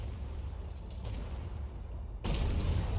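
A tank cannon fires in the Armored Warfare video game, a sudden loud boom cutting in over a rumbling battlefield background and leaving a sustained heavy roar.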